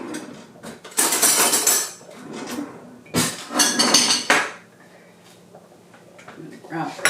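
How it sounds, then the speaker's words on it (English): Metal cutlery clatters and clinks as a spoon is pulled from a kitchen drawer, two bursts of rattling about a second long with a quieter pause between. "I'm going to grab a spoon so that I can taste it and make sure it's seasoned properly"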